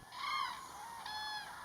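Migrating cranes calling at a French reservoir, two distant bugling trumpet-like calls in quick succession over a quiet, faint background.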